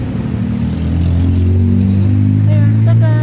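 A car drives and turns nearby, its mid-pitched engine humming steadily and rising slightly, with faint background sounds and no clear talk.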